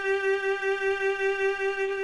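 A violin sustains a G played with the third finger on the D string, one steady bowed note with a rich, bright harmonic tone and gentle pulsing in the bow, heard alone and close.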